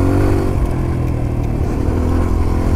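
Motorcycle engine held at full throttle, loud and close, a steady roaring drone with mechanical clatter running through the whole stretch, pulling hard into a corner with no voices over it.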